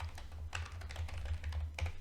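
Someone types on a computer keyboard into a search box, a quick run of soft, close key clicks with a few slightly louder taps, over a low steady hum.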